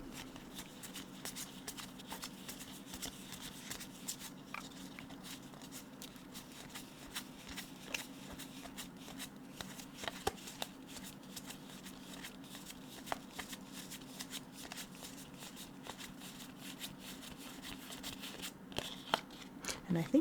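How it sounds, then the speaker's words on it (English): Yu-Gi-Oh and Pokémon trading cards are flipped through one after another, giving soft, rapid, close card flicks and slides that run steadily throughout at low volume. "We'll do a quick flip through those cards."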